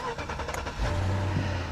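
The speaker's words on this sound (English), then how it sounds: "Let's get in the car. Let's fire it up." Used car bought at auction starting up: a short cranking whir catches into a steady low idle hum, with a voice talking over the start.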